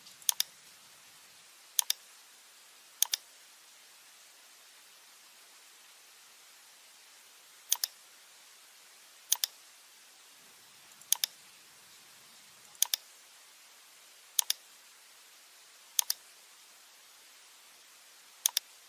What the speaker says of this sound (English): click on the nodes of the roof.